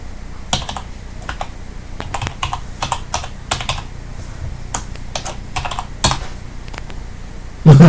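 Someone types on a computer keyboard with irregular bursts of clicky keystrokes at close range, sometimes quick runs and sometimes single taps, and a heavier thump comes at the very end.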